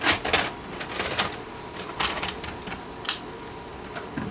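A Sharp VC90 multi-system VCR taking in a tape and kicking it straight back out, its mechanism giving a close run of sharp mechanical clicks and clunks at an irregular rhythm.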